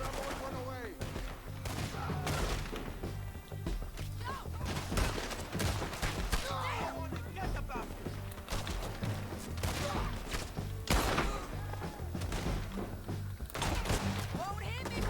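Gunfire fills a Red Dead Redemption 2 shootout: repeated sharp rifle and pistol shots, some in quick bursts, crack over a continuous music bed, with voices shouting in between.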